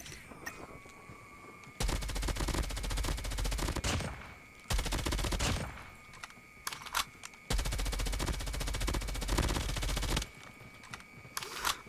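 Rapid automatic fire from an M13 assault rifle in Call of Duty Mobile ranked gameplay, loud sustained bursts of a few seconds each separated by brief pauses and scattered single shots.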